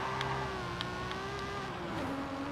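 A car engine revving hard in second gear, a strained rising whine that holds steady and then dips slightly, heard from inside at moderate level with no talk.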